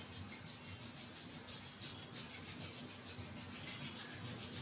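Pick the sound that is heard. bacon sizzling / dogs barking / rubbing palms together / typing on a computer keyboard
rubbing palms together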